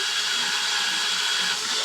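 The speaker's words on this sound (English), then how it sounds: "I come around here and drill another one, getting it even with my other" Power drill boring a hole to anchor a rocket nose cone, a steady continuous high-pitched whir held close and loud throughout with no pauses.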